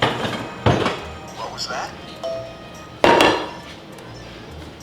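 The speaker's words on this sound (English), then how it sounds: "The first step is to chop up the mozzarella" Knife chops on a board as mozzarella cheese sticks are cut in the DS game Personal Trainer Cooking, two distinct sharp hits with clinks between them, and a voice speaks briefly.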